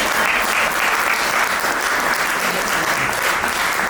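A wedding congregation in a church claps steadily to acclaim the Lord, a loud, dense and continuous round of applause with no break.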